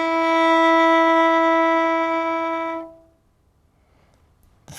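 One long bowed violin E note, played with the first finger down, held clearly and evenly for nearly three seconds, then stopping and leaving quiet room tone.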